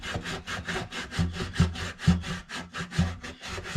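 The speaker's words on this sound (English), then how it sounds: "just kind of lightly sand that brace where I was pressing the chisel into it" Sandpaper rubbing a wooden popsicle brace lightly, close up, in a steady back-and-forth rhythm of about ten short strokes with no talk.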